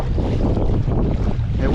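A gusty south wind buffets the microphone during kayak fishing on the Peace River, a steady, close, rushing roar of wind noise with no voices.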